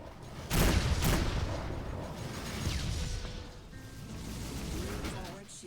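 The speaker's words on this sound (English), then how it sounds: "that's so many missiles" A barrage of missiles slams into a spaceship in a space video game, with a burst of sharp blasts near the start followed by a dense, rumbling crackle of continued impacts.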